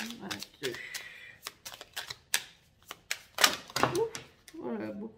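Cards are shuffled in a tarot reading with bursts of crisp clicking and riffling, close and moderately loud, broken by gaps, while a voice speaks in between.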